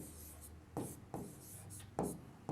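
A pen scratches across paper while a class 10 maths trigonometry problem is written out, with soft strokes and a few sharper taps close to the microphone and no talk.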